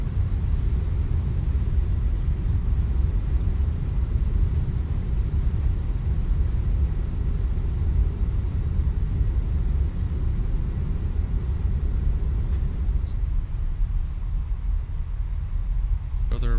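Reverse thrust from a Fenix A320 on landing at San Francisco in Microsoft Flight Simulator, a loud continuous low rumble that holds steady and close throughout.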